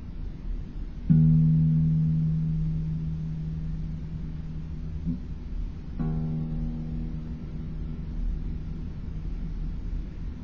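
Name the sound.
guitar low E string tuned down half step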